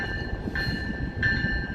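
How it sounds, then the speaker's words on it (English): Metra Electric train pulling into Van Buren station in Grant Park, Chicago, a low rumbling roll with two high, sustained squealing tones from wheels or brakes, close and loud. "We'll watch this Metra train pull into the Van Buren station here"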